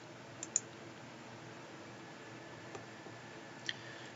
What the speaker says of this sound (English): I'll highlight those using Control-click